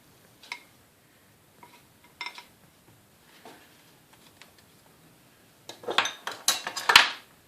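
A cookie cutter presses through a slice of bread to cut a heart shape, giving sparse light taps and clicks that build into a cluster of louder clinks and scrapes near the end, close by with no talk.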